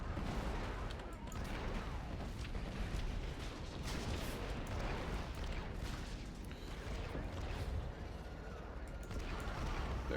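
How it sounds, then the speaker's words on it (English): Tank cannon fire blasting a turret in a Star Wars video game level, dense booming explosions and gunfire-like bursts layered continuously over a busy, loud game soundscape, with a voice talking over it. "destroy this one up here, just because it's annoying to hit with the tank"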